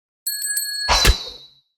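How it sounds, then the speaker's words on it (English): A struck bell rings in a meditation setting, three quick bright tones followed by a fuller resonant strike that swells and decays into quiet, heard alone without voices. "When the final bell sounded, an almost sacred silence descended."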